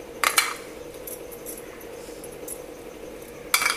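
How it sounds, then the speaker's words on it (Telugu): Curry leaves and crushed cumin being stirred into chopped vegetables for an egg omelette, with a bright metallic clink at the start and another near the end, and faint light scraping between. "ఒకసారి ఇవన్నీ మిక్స్ చేసేద్దాము"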